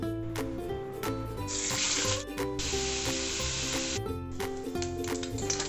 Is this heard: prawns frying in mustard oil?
yes